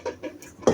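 Metal cooking pots and dishes clatter and knock together in a home kitchen after meal cleanup, a few light clinks followed by a louder clanging bang near the end.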